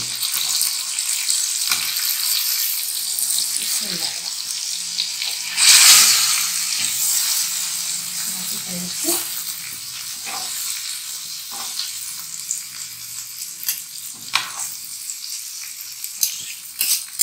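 Fish fries in a pan of oil, a steady close sizzle and crackle running throughout with a brief louder hiss as the fish is flipped with two large spoons, plus scattered scraping clinks.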